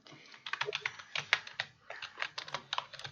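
Quick, uneven tapping on a computer keyboard, close and fairly quiet, a run of light clicks in short bursts with no talking.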